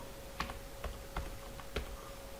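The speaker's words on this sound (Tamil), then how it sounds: "இப்போ நான் இந்த செல்லில் மதுரைன்னு டைப் பண்ணுறேன்" Four slow, separate key taps on a computer keyboard while entering a word into an Excel spreadsheet cell, quiet and close, over a faint steady hum.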